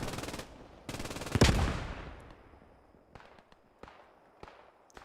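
Friendly gunfire erupts in the World War II shooter Post Scriptum, a loud burst of rapid automatic shots with a heavy blast, then scattered sharp distant shots trailing off.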